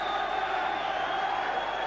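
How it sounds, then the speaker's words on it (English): A boxing crowd at a WBF world super lightweight title bout at Shannons Gym cheers in the final round, a steady, dense roar of many voices that holds at one level from start to end. "Listen to the crowd here. They've enjoyed this."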